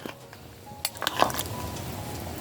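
A ladle scraping and clinking against a cooking pot while jackfruit stew is stirred, a few sharp metallic knocks over quiet kitchen background.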